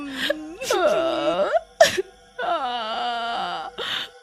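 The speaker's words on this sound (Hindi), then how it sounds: "बबलू को अचानक किसी औरत के रोने की आवाज आती है" A woman cries in long, wavering wails broken by short sobbing gasps, loud and close, heard alone.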